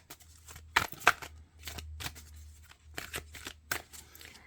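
Tarot-style reading cards are shuffled by hand, giving quick crisp riffling bursts and light slaps at an irregular rhythm, close and fairly quiet.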